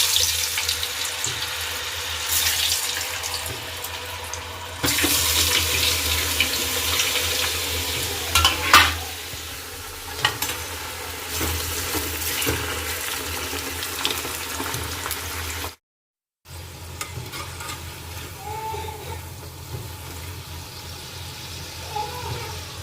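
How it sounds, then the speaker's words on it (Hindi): French fries sizzle in hot oil in a home kitchen, a steady broadband crackle with some watery clatter and stirring, broken by a brief cut near the end, and faint talk in the background. "मैं विहान के लिए थोड़े से फ्रेंच फ्राइज़ बना रही हूँ"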